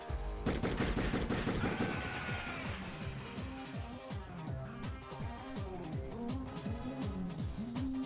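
Rapid gunfire from the Die Hard Trilogy video game, a dense run of sharp repeated shots with a loud burst at the start, then steady bangs continuing throughout over game audio.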